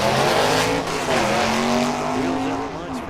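A 4-speed Camaro and a 4-speed Barracuda drag car launch side by side at the strip, loud steady engine roar with a hint of tire squeal filling the whole stretch.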